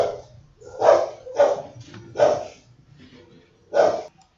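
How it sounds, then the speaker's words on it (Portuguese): A dog barks in an indoor room, four sharp, fairly loud barks in uneven rhythm with a short pause before the last, over faint background noise. "é um cachorro aqui"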